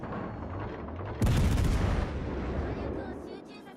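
A naval gun blind-fire salvo in World of Warships: one sudden heavy boom cuts in after a quiet lead-in, then rumbles and fades slowly over the next couple of seconds.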